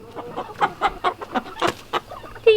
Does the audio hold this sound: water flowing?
no